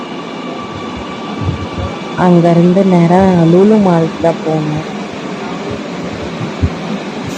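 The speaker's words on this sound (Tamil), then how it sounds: "மெட்ரோ ட்ரெயினில் ஏறிட்டோம்." Metro train ride: a steady rumbling carriage hum with a rising, wavering whine in the middle, and someone talking over it throughout.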